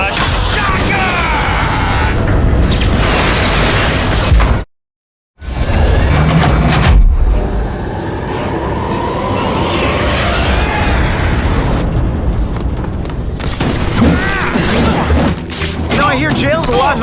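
Shocker's seismic harness blasts in The Amazing Spider-Man 2, with repeated booming impacts and crashes spread over about seventeen seconds, a brief dead silence near the start, and voices talking throughout.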